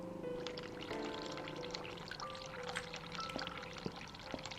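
In the horror game The Cat Lady, a hot-water tap runs in a steady, splashy pour at moderate volume, continuous throughout, with no voices.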